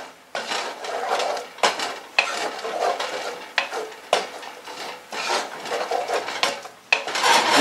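Spoon scraping and clinking in a pan as ingredients are gently stirred for a simple sandwich lunch, repeated bursts of metallic scraping with brief pauses, close and fairly loud with no talking.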